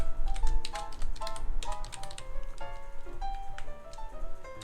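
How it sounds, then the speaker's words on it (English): Someone types on a computer keyboard with a quick, irregular patter of close key clicks, some strokes louder than others, over a faint background hum. "Might help if I was actually typing."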